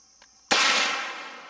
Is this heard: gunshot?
yes